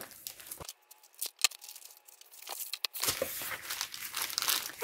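A diamond painting kit package being unwrapped, with sharp crinkling and rustling of plastic wrap in irregular bursts, close by, growing denser and more continuous toward the end, no talking.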